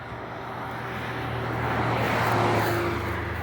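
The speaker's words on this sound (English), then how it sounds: "And there's one of the pumps" A pump runs steadily at a pipeline construction site near a wetland, a loud continuous mechanical drone with a low hum that swells slightly and never pauses.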